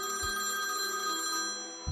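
A house phone rings steadily indoors, the electronic bell tone sustained and fairly loud, with faint thumps at the start and end.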